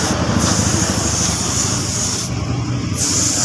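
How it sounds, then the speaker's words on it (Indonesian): Continuous loud hiss of spray paint applying candy red to a Yamaha Mio motorcycle part, close and steady with slight pulses of the nozzle, no voices. "Ini kita semprot cat warna merah candinya seperti ini"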